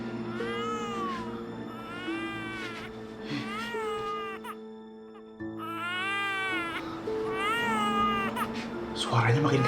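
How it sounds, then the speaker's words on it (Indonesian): A baby cries in the horror game School Impostor, repeated wailing bursts with short breaks, loud and close, over low game ambience and with a brief pause midway. "Kok itu kayak ada suara bayi?"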